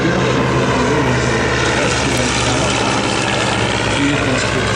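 A light propeller plane such as a Taylorcraft on an early-morning training flight droning loud and steady, a continuous close engine and propeller roar with no pauses or talk.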